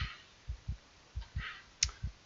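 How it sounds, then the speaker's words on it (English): Heartbeat sound effect in a Doki Doki Literature Club mod, soft paired low thumps repeating in a steady lub-dub rhythm, faint and alone. "The sensation of my heart pounding is making it hard to focus"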